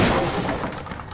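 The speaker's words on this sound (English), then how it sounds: "I'm smashing crates right now." Wooden crates smashed apart in the action RPG Kingdoms of Amalur: Reckoning, a loud cluster of splintering, cracking breaks over about a second with no talking.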